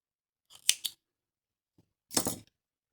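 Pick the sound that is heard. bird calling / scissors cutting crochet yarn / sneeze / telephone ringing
scissors cutting crochet yarn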